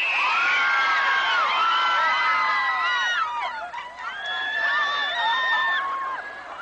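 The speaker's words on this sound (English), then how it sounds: "who stood outside and screamed as if morning service were a film premiere" Crowd screaming outside Washington Cathedral for visiting royalty, a loud, continuous wall of high-pitched shrieks, whoops and cheers close by.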